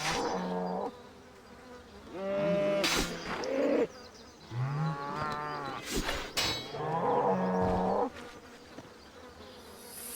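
Several cows mooing in the RuneScape video game, drawn-out lowing calls one after another, loud and close, over a steady buzzing background hum.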